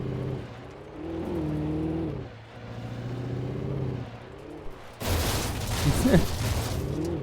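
A car drives in the Alan Wake video game, its engine rising and falling in repeated revving surges, then a burst of loud gunfire and crashing noise takes over the final seconds.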